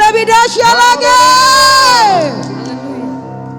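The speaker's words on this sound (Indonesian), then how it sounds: "Lebih dahsyat lagi sorak-soranya" Church congregation cheering and shouting during an intercessory prayer service, a loud sustained crowd roar with a prominent voice whooping over it before fading into softer cheering.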